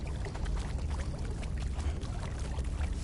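Water cascades from an indoor waterfall inside a room of the Conan Exiles game, a continuous splashing pour with a rumbling low end, steady and moderately loud with no voices.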